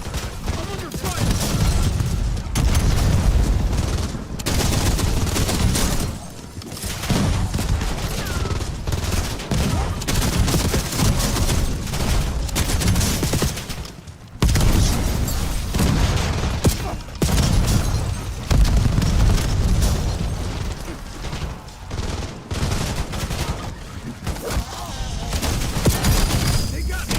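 Video game battle with dense, continuous gunfire and explosive booms nearly throughout, bursts of automatic fire layered over one another, loud and close, with a voice speaking intermittently underneath.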